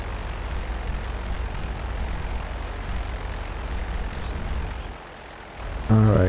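An airplane in the video game GTA Online drones steadily in a broad, continuous engine rumble, with faint whistling tones above it, before a voice breaks in near the end.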